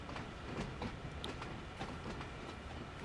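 A heritage unit freight train rolls along Horseshoe Curve in the Train Sim World game, giving a steady low rumble with rhythmic wheel clicks and faint metallic squeals, continuous and moderately distant, with no talking.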